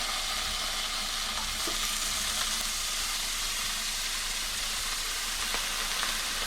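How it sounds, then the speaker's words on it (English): Slabs of queso fresco frying in a Cainfy Hexclad-copy pan with no added oil, making a constant close, even sizzle with faint pops and crackles, no talking. "Let's go ahead and put some slabs of queso fresco on there"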